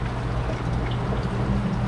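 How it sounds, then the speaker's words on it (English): Coolant drains from a clogged car radiator in a steady, continuous gurgling rush of liquid, with low background rumble and no talking. "The radiator's draining down here right now"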